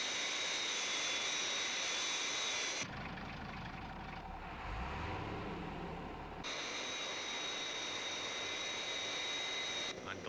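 Jet engines of the Fireflash airliner roar in a loud high-pitched whine, drop away to a lower rumble mid-way, then return at full intensity, with no one speaking.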